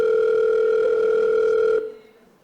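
A telephone dial tone sounds as a call is placed to a radio DJ, a loud steady tone that holds for nearly two seconds and then cuts off abruptly into quiet line hiss.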